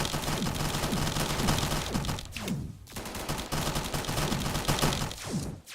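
Sustained gunfire from weapons shooting at enemies in the modded space game Starbound, rapid overlapping bursts continuing loudly for several seconds with brief gaps and no talk.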